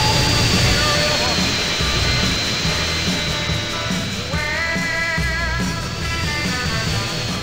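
Jet-like airplane engine roar from the game GTA San Andreas, a loud continuous drone with a shifting whine that changes pitch partway through.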